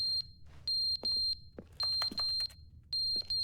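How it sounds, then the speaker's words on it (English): A smoke detector in The Stanley Parable gives repeated high, piercing electronic beeps, sounding in steady bursts with short gaps, along with faint thumps and brief clicks between them. "I think that's a smoke detector."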